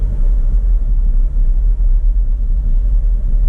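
A car rolls through downtown Allegan, Michigan, heard from inside as a loud, steady low rumble of engine and road noise with no break.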